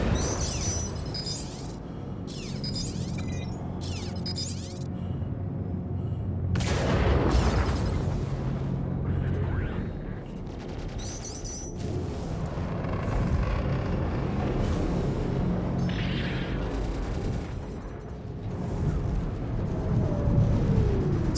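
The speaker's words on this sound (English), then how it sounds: "He's gonna fire another torp in a second." Naval combat game battle with a torpedo fired and detonating: deep booming blasts and rumbling explosions that swell several times over a continuous low roar, with whistling, sweeping tones and scattered impacts between them.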